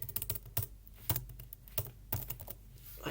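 Keys on a computer keyboard are struck while copying and pasting, a faint scatter of separate clicks in small uneven bursts with short pauses between them.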